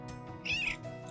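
A pet cat named Twister gives one clear, fairly close meow, rising and drawn out in the middle, with softer chirpy mews before and after, and no talk.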